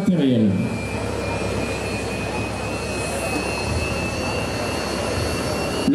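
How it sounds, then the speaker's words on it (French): An Airbus H145 civil-security rescue helicopter hovering over a rescue site while crews are winched down: a loud, constant turbine roar and rotor wash with a thin whine running through it, steady from start to finish. "Revoici le H145, notre Dragon, posé ses secouristes au plus près de la victime"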